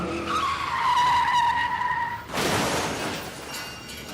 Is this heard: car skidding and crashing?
yes